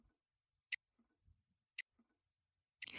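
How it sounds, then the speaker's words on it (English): A running clock ticks through a pipe, heard as sparse, crisp, faint clicks spaced roughly a second apart in an otherwise quiet room. "Did you hear the sound of the ticks coming from the pipe?"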